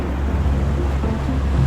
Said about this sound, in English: Some serious, like, standing waves. Bit of swell coming in, isn't it?